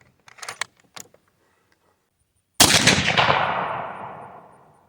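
A single loud rifle shot from a .270 Winchester loaded with cast bullets, a sharp crack with a long rolling decay outdoors, preceded by faint clicks and handling sounds of the rifle.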